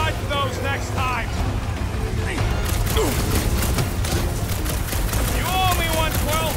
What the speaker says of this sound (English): just try not to get shot by the big guns, bud!